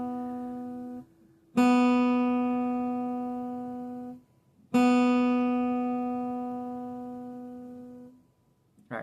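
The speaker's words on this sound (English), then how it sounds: "Here's your B string." Guitar B string struck twice, each open note ringing out clear and close and slowly decaying. A brief different note comes before the first one.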